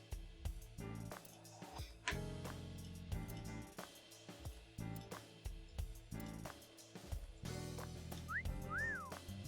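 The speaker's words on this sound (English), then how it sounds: "I thought I told you to stop with the wolf whistles" Wolf whistle in the video game AI: The Somnium Files, a quick rising-then-falling two-part whistle near the end, heard over steady background music with no talking.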